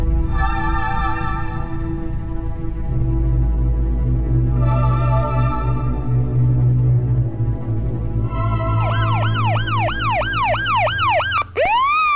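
A police car siren arrives, loud and near, first sounding in long steady wails, then switching to fast rapid yelps toward the end, over a constant low engine rumble.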